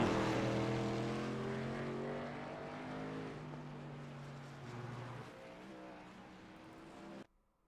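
The 55 truck in a racing video game at Oran Park, heard onboard for a lap: a high engine whine climbs and drops through gear changes, steady and close, then cuts off abruptly at the end.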